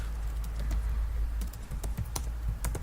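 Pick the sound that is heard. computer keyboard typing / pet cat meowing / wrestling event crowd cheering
computer keyboard typing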